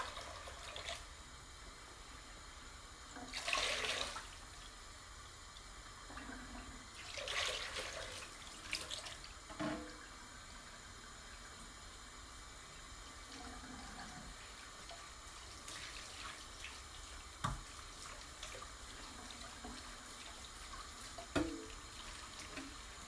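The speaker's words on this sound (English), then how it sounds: "the water pressure here where I live is pretty nice" Tap water running into a sink, a quiet continuous flow with a few louder gushes and splashes, occasional sharp drips and clinks, no voices.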